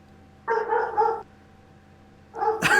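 A dog barks in two short bursts, a quick run of yaps followed by another sharp bark after a pause, loud and fairly close with no one talking.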